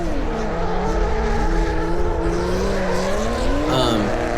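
Drift cars at a Lone Star Drift pro-am competition round scream through a run, a loud, sustained engine wail that climbs and dips with throttle changes and swells briefly near the end, with a voice faintly present underneath.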